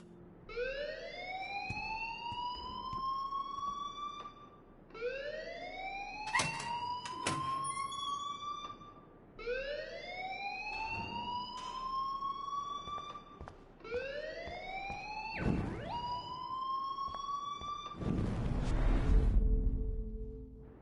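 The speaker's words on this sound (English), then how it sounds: "please turn off that alarm since that's your job" An alarm wails in the Life is Strange video game, a rising siren-like sweep repeating about every five seconds. It is moderately loud and steady, with a few sharp clatters and a noisy burst near the end.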